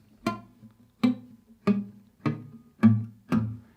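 Six plucked guitar notes ring out one after another at a steady pace, each with a slightly dull, buzzy attack from a fret not pressed hard enough, dying away quickly.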